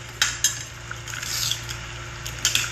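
A spatula scrapes and clinks against a pan while prawn tamarind curry is stirred and sautéed, a few sharp metallic taps over a soft sizzle, quiet and without talking.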